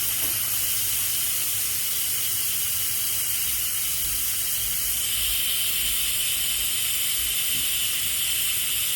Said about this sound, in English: I will come and release the pressure with the vent nozzle